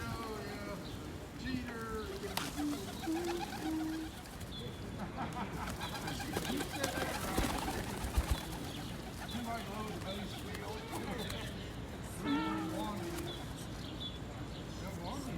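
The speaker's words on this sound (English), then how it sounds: "Just coming to the park and feeding the birds." Pigeons coo in a park while birds are being fed, soft repeated calls mixed with chirps and occasional wing flaps, heard under steady nearby talking and busy outdoor background.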